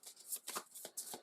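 A deck of minion cards for an Unmatched board game is riffled and shuffled in several quick papery bursts, close and crisp, with no talking.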